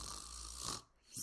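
A voice imitates snoring with a long raspy inhaled rumble, a brief pause, then the start of another snore, close and fairly quiet.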